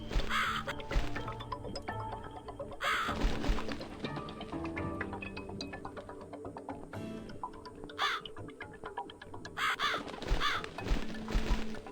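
A crow caws repeatedly in The Cat Lady video game, sharp calls recurring every few seconds over a dense, droning game soundtrack.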